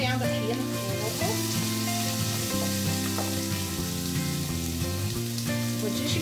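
Chicken with okra frying and sizzling in a pan on a stovetop, a steady close crackle that runs throughout without a break, over a low hum of background tones.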